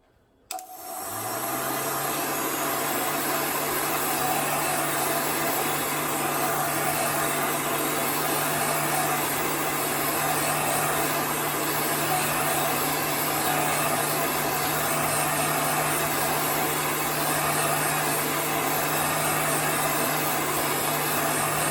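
A heat tool runs continuously while drying a gingerbread shadow box craft, a steady close whirring hiss that starts abruptly and holds at an even level with no voices.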